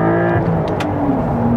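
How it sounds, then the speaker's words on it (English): A tuned Porsche 992 Carrera T engine revs steadily on throttle, a loud continuous droning growl with rising and falling tones and no talk over it. "Oh, you just breathe on the throttle and it just goes."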